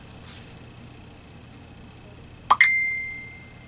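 A phone gives a short, bright text message chime alone in a quiet room, a quick double ding with a ringing tone that fades out over about a second.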